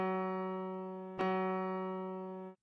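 A musical note F sharp rings as a clear sustained tone, re-struck once midway and then cut off abruptly, heard alone and moderately loud.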